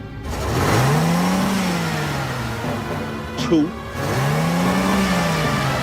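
A car engine revs hard and pulls away, rising and falling in pitch in two long sweeps, loud and close. Someone speaks briefly in the middle.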